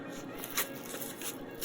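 Paper rustling and crinkling as a sticker-covered envelope packed with zine mail is opened by hand, soft close crackles in brief irregular bursts.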